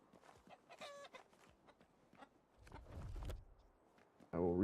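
A chicken in the survival game RuneScape: Dragonwilds gives short, scattered clucks and squawks amid quiet in-game ambience, ending with a louder harmonic call. A voice speaks briefly in places.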